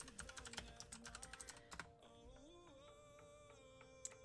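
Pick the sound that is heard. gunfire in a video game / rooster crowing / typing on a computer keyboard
typing on a computer keyboard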